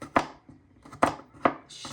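A knife chops garlic cloves into very small pieces on a board, four sharp close knife strikes landing at an uneven rhythm with quiet pauses between them.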